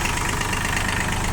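A Mitsubishi MT14 tractor engine runs steadily at close range, a dense, continuous mechanical drone with a faint knocking pulse and no change in pace.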